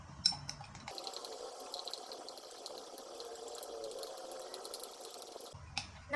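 Stirring a wheat flour and water mixture in a glass, a steady wet swishing and sloshing that runs for several seconds, close up and alone.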